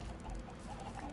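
A Minecraft chicken clucks softly a few times in brief, quiet bursts over a low background hum.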